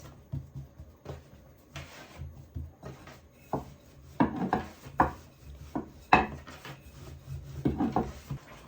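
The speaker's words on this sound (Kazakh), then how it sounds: "Осы қамырымызды енді кішкене жайып аламыз." A rolling pin works dough on a wooden board in irregular knocks and scrapes, soft rubbing between sharper wooden taps, close and fairly quiet with no talking.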